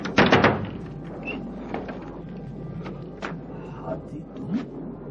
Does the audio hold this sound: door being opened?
yes